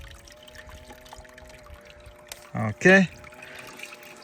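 Water runs across a miller table used for recovering fine gold from river sand, a faint steady trickle. Someone speaks briefly and a couple of short louder splashes come near the end.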